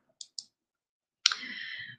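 Two quick mouse clicks while selecting colors in the Canva design app, sharp and close, followed by a brighter, sustained noisy sound.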